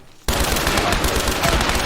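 Loud, rapid bursts of pistol gunfire in a The Last of Us multiplayer match, starting abruptly after a brief quiet moment and continuing densely throughout.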